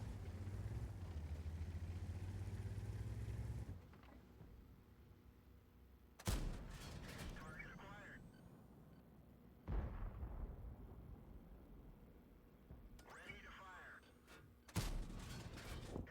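Tank cannon fire from a Chrysler K in World of Tanks on the Prokhorovka map: three heavy booming shots spaced several seconds apart, each with a long rumbling tail, over a steady engine drone with no talking.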